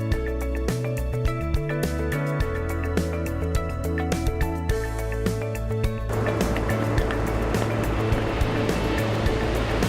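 Ocean surf and an outgoing tide during a canoe crossing on South Africa's Wild Coast in the Eastern Cape, a steady loud wash of water under a droning motor-like hum that gives way to broad rushing noise.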